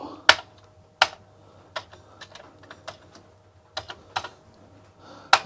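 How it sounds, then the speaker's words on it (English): Keys on an old computer keyboard with a poor action are struck hard, giving sharp, loud, irregular clacks spaced apart over a low background hum, with no talking. "It's a little bit bad keyboard on this machine too, so I need to press hard"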